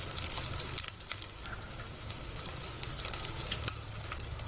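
Sliced onions hit a hot pan for a Hungarian paprika stew, setting off a steady, close sizzle and crackle with faint stirring scrapes and no talking.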